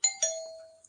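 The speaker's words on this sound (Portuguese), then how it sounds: "Opa, até a campainha tá tocando aí." A doorbell gives a quick two-note ding-dong, bright tones ringing out and decaying over under a second, moderately loud and alone.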